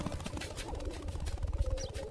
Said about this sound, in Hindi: एक चिड़िया बोली चुन चुन चुन